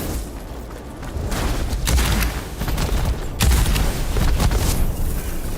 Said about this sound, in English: Now let's see how this shotgun behaves.